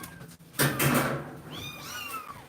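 Small kittens mew in a few high, thin, rising calls, close by, after a short burst of rustling or cupboard-like knocking.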